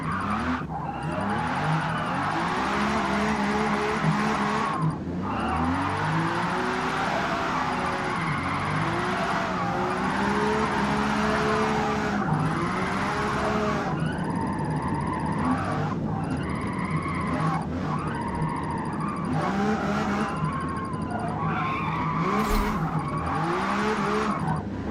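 A Lamborghini drifting on an oily track gives long, continuous tire squeals over a revving, surging engine, with the pitch repeatedly rising and falling across sustained slides, loud and close throughout.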